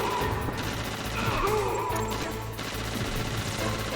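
An unlimited-ammo rifle in Metal Gear Solid firing in rapid automatic bursts over a dense, loud game soundscape, with no talking.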